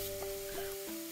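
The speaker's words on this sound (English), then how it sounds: "Place this into a pan over medium heat and begin to break it up." Country sausage crumbles sizzling in a pan over medium heat, a steady close fizzing crackle with faint scraping from being broken up, no voices.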